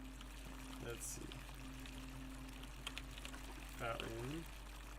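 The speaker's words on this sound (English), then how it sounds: "Fountain fresh water which is coming from the aqueduct" Fresh water from an aqueduct flows steadily through a fountain in the video game The Forgotten City, a soft continuous pouring stream under a low hum, with a person talking over it.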